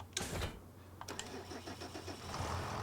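A tractor engine in Farming Simulator 25 cranks and catches, then settles into a steady mid-pitched rumble, heard fairly quietly with small clicks along the way.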